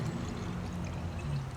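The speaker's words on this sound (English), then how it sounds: "taking your water and pouring it in" Water, about two cups, poured into a container on a kitchen counter for an organic garlic pesticide mix, a short steady close-up splashing pour with no speech.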